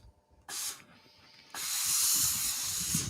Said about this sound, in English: Got some major steam coming up here.